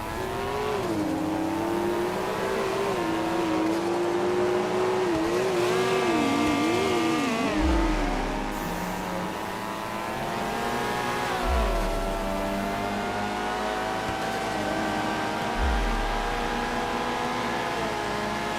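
A Nissan GT-R's engine in a racing video game, a loud, continuous high-pitched whine climbing and falling through revs, with gear shifts and deep thumps marking the changes, close and alone with no talk.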